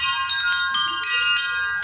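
A chime bell prop rung during a podcast, bright ringing tones with a couple of strikes that sustain and overlap, close and fairly loud, with no talk over it.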